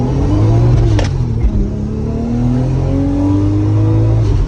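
A 450hp Toyota Chaser drift car on a test drive, its engine loud and close, revving up through a gear with a brief dip at a shift, then pulling again with rising pitch.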